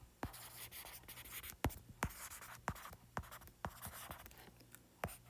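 Marker or pen writing on a board or paper while working physics problems, heard as irregular sharp strokes and scratches, close and moderately quiet, with no speech.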